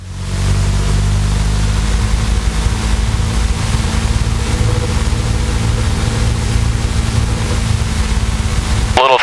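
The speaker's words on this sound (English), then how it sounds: "Run up, we'll go up to about 1700 RPM." A Luscombe light aircraft engine runs up to about 1700 RPM on the ground, a loud, steady droning roar with a constant low throb holding level throughout.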